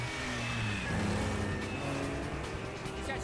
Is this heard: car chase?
yes